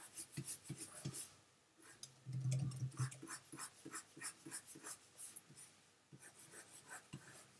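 Wacom pen strokes rubbing quickly across a graphics tablet while erasing in Photoshop, a rapid run of close, scratchy rasps with one brief pause partway through.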